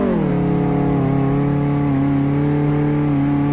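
In Car Mechanic Simulator 2018, a car engine is held at full throttle, giving a loud, steady, strongly tonal drone that dips slightly in pitch early on and then holds level, with no talk.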